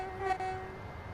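Horn of a passing high-speed Southeastern train, a sustained tonal blast heard at a moderate distance over the low rumble of rail running, fairly faint and without voices.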